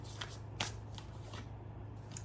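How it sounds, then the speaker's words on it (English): A deck of oracle cards is shuffled by hand, close and quiet, giving several soft riffling flicks in an uneven rhythm over a faint steady background hum. "I kind of want to shuffle and pull and see what else you guys have"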